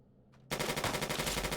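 An automated turret in the video game Fallout opens fire after a brief quiet moment, a sudden loud burst of rapid, rhythmic gunfire that continues steadily.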